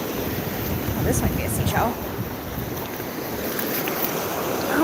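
Ocean waves wash up on a beach with a steady surf rush and gusting wind on the microphone, while a person talks over it.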